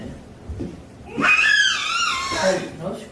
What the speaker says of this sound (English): Hey, no screaming.